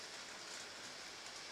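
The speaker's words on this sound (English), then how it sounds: "rain getting heavy just as the green light switches on here for the lure to roll" Heavy rain pours steadily at an outdoor greyhound racing track, a dense, even hiss that fills the whole moment without pauses or voices.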